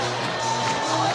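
Baseball crowd cheering at Principal Park in Des Moines during an Iowa versus Florida International game, a continuous wash of voices and roar throughout the short stretch.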